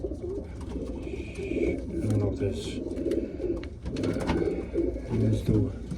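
A racing pigeon held in the hand coos in low, repeated throbbing calls, close by, while someone talks over the bird.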